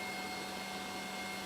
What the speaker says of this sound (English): the first thing that I'm going to start is the EDF